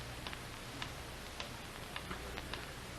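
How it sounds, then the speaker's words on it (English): A clock ticks steadily and faintly, with a regular beat of evenly spaced clicks behind a constant hiss of old recording noise. "Listen to that ticking."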